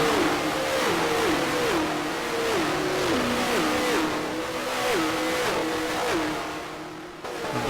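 A racing car at a 1974 Pocono 500 recreation revs hard, its engine pitch climbing and dropping repeatedly in a regular rhythm through gear changes, loud and close for several seconds with no voices.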